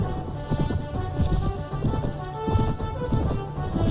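Horse hooves clip-clop in a rapid, uneven gallop rhythm in the medieval combat game Prophecy of Pendor, fairly close and moderately loud over a steady background hiss.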